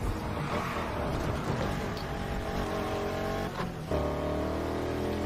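A racing video game car engine revs and drones steadily through the whole stretch, loud and close, with a brief dip near the four-second mark before the motor pulls back up.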